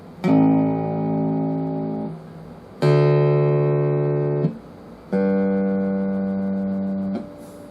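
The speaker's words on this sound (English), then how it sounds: "the purity of note on this bass is astounding" Three sustained, sonorous low E notes are plucked one after another on a jazz bass guitar, each ringing for about two seconds before being damped, close and clear.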